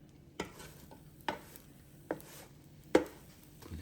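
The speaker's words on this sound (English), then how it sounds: "let's flip this over one time. Just flip it over just like that." Four sharp, separate clacks and scrapes ring out as a grilled cheese sandwich is flipped in a Power XL cooker, spaced unevenly over a low background hum, with no talking.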